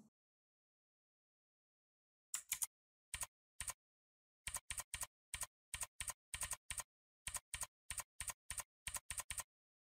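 Keys on a computer keyboard clack in short bursts after a silent start, a close, crisp run of separate keystrokes with brief gaps and no voices.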